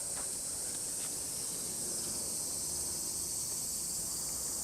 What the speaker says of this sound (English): this is a cicada